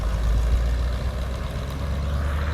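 A 1924 Cadillac V-63 rolling along a road in Venice, Florida, a heavy low engine rumble with road noise, steady and moderately loud, no voices.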